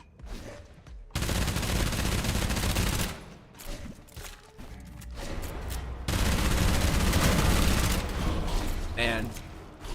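Sustained gunfire pours into an abomination in a shooter video game, loud bursts of rapid shots running for several seconds with brief lulls, mixed with game noise and some talk.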